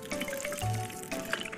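Faint trickling and dripping of water as plants are watered in the Upin & Ipin video game, soft and quiet with light splashes.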